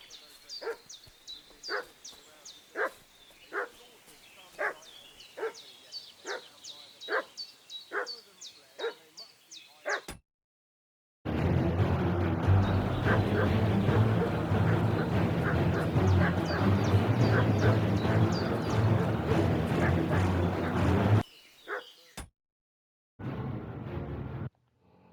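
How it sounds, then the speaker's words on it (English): A dog in the medieval video game Kingdom Come: Deliverance II barks repeatedly in a rhythmic series of yaps and yips, moderately close, before the sound breaks off into a dense, louder game soundscape. "What's that dog making such a fuss about?"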